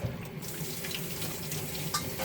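Steady running tap water splashing into a sink while duck meat is rinsed for curry, a continuous close wash of water with no one speaking.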